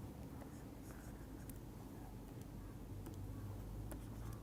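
Chalk or marker writing on a board during a lecture, a steady faint scratching and tapping with occasional sharper ticks, continuing alone without speech.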